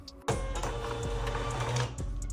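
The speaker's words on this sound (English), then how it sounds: "So then after I print the shipping label" A small thermal shipping label printer runs one continuous, steady whirring feed for about two seconds, close and fairly loud, with a short quiet before it starts and a faint click as it stops.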